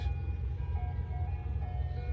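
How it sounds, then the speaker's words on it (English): An ice cream truck's jingle plays from a distance, a thin repeating melody riding over steady low road and traffic rumble in a Tucson street setting. "Ice cream truck."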